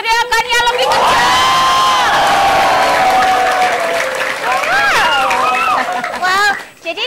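A crowd of vocational high school students cheering and shouting loudly together, sustained and excited, with whoops and a voice over the noise near the end.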